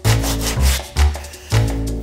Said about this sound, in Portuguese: você vai vir com a lixa e aparar o que a serra deixou errado